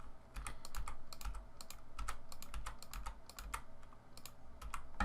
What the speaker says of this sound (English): go through each of these records using the arrow keys on my keyboard and just paste